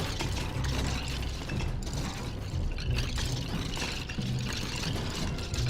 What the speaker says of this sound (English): More clinking of skeleton bones.